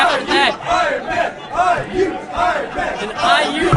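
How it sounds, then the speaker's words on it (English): Crowd of people from a college dorm cheering and chanting in rhythmic, rising and falling shouts for the IU Ironman, loud and close, several voices yelling together in a repeated pattern. "We have a cheer going up for the IU Ironman from all of the people"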